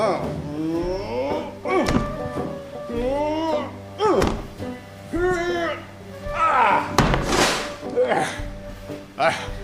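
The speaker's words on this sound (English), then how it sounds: "I shall just break the door down." Repeated heavy thuds against a door build to a loud splintering crash in a radio drama, the blows landing under and between strained, effortful vocal sounds.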